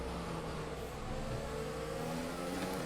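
In a racing video game, a race car's engine drones and climbs as it accelerates out of a corner on the Brazil circuit, a steady mid-pitched roar at moderate level with no speech.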